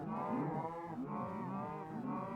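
Several cows in Minecraft Bedrock moo in overlapping, repeated calls, a steady chorus of wavering lowing with no voices over it.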